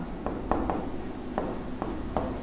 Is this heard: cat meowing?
no